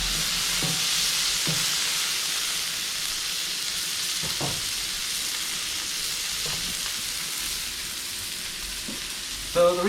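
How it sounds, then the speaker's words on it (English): A burger in a hot pan sizzles loudly and steadily after being flipped, with a constant crackling hiss and a few faint clinks from the utensil. "And then we're going to go ahead and flip the burger."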